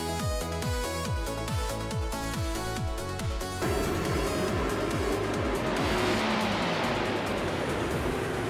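A classic 1971 Ferrari 312 and other race cars on track, engines revving in rapid rising gear-change sweeps before the sound turns into a dense roaring rush as cars pass close by.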